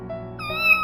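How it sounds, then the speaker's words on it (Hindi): A single cat meows close by, a short rising call with a clear tonal pitch, heard alone. "एक दिन जंगल में एक बिल्ली घुस आई।"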